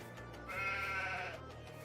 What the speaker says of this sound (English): Hey, look! New sheeps!